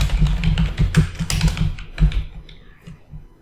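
A company name being typed on a computer keyboard: a quick, uneven run of close, crisp key taps that slows and thins out toward the end.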